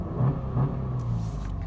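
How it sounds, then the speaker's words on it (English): A car engine catches and settles into a low idle rumble after a push-button start, with a couple of brief low swells before it steadies, no voices over it. "So I'm gonna start my car."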